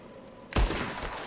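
A single sharp gunshot rings out in the western video game Red Dead Redemption 2, loud and close, with a booming decay and echo trailing after it.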